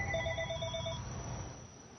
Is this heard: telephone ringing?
yes